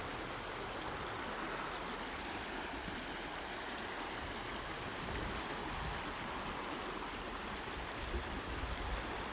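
The River Dyfi flowing over rocks, a steady, broad rushing of water that stays even and continuous throughout, fairly close and with no voices over it.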